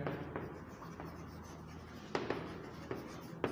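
Marker or chalk writing on a board during a physics lesson on electric charge, with soft scratchy strokes and a few sharper taps, close and alone with no talk.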